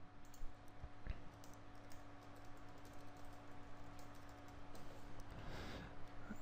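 Keys tap on a computer keyboard as a root password is entered, a quiet, steady run of light clicks over a constant electrical hum, with no voices.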